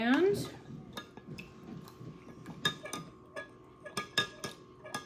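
Gelatin being stirred into vinegar in a dish, a spoon clinking and ticking against the sides in a quick irregular rhythm, close and fairly quiet, with a brief scrape at the start.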